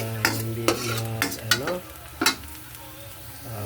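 Utensil scraping and stirring dinuguan ingredients in a pan, with sharp clacks against the metal at irregular intervals over a steady background sizzle.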